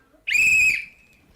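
A single sharp whistle blast at an outdoor march, one loud steady shrill tone lasting about half a second before cutting off, with no talk over it.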